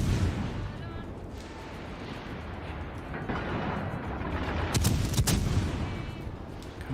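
Naval artillery from a World of Warships Legends battle booms in a deep continuous rumble, with a sharper salvo crack near the end and a voice talking over it.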